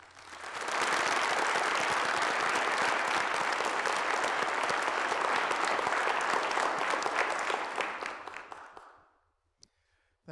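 An audience breaks into sustained applause welcoming historian Clayborne Carson at a lecture on Martin Luther King, the clapping swelling quickly to a steady loud roar, then fading out with a few last stray claps.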